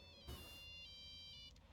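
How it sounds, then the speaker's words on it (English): A cell phone ringtone in the video game Max Payne chimes faintly in thin, steady electronic tones that stop and restart, set in a murky, rumbling game ambience with a brief thud early on. "listen to that cell phone ringtone."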